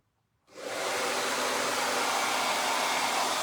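A hair dryer kicks on after a brief quiet moment and blows steadily and loudly, drying freshly transferred Chalk Couture ink on a shirt.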